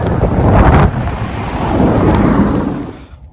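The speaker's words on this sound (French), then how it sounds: "Juste à côté, il y a la mer." Loud wind buffeting the microphone mixes with a steady wash of sea waves on a shore beside the sand desert of Fuerteventura, a continuous broad roar with no voices.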